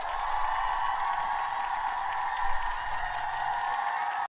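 Many people clap together at a funeral, a dense, steady wash of applause lasting about four seconds before cutting off abruptly.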